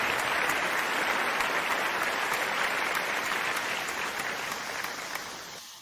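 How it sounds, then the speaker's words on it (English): Steady applause from a crowd, dense clapping that holds evenly for several seconds before tapering off slightly at the end. "that deserves a round of applause"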